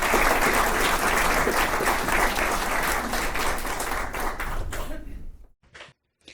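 Loud audience applause welcoming storyteller Karen Multer, a thick wall of clapping for about five seconds that fades out and ends in near silence with a few last claps.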